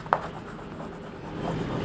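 Marker or chalk writing on a classroom board during a class 12 chemistry lecture, a short sharp stroke followed by soft continuous rubbing scratches, close and fairly quiet.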